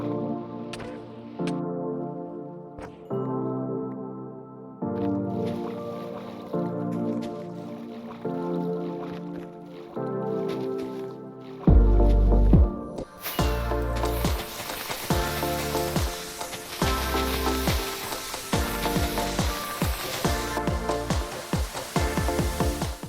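Blocky splashes and drips of ocean water sponged away in Minecraft, landing as repeated short wet bursts over a steady game music bed, busier and louder in the second half.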